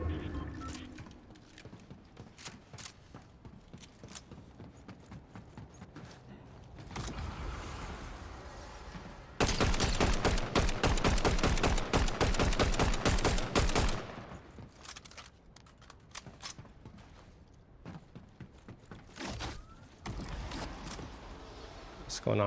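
Rapid gunfire from the Mammoth pistol in Fortnite crackles in dense bursts, loudest in a sustained volley midway, with talk running over the game sounds.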